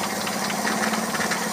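A Toyota Kijang 7K carburetor engine idles steadily during carburetor adjustment, a continuous close mid-pitched hum with light knocking and rattle running evenly throughout, with no voices.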